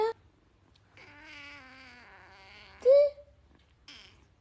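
A kitten named Mimi cries indoors with several loud, drawn-out wailing meows, one sharper cry standing out near the end, a person speaking softly between them.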